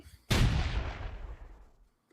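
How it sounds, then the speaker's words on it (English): A ship's cannon fires at a stockade: one sudden heavy boom, close and loud, with a long rumbling decay that fades out over about a second and a half. "That's the ship's cannon. They're shooting at the stockade."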